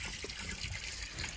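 Water runs from an automatic watering system on a cattle farm, a short steady trickle and splash heard close with faint low rumble behind it.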